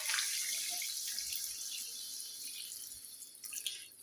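Heated water is poured into a meat curry, giving a steady, hissing liquid stream that runs close by throughout with a slight splashy rise near the end, and no talking.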